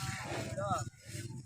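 A water buffalo lows once, a drawn-out moo-like call rising over a steady outdoor background, with people talking nearby.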